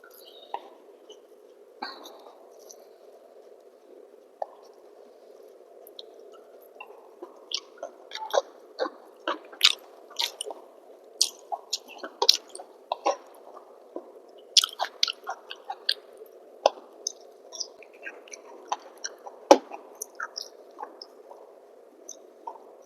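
Someone eats rice, dal, mashed potato and fried aubergine with ghee, chewing close to the microphone with scattered wet clicks and smacks over a steady low hum.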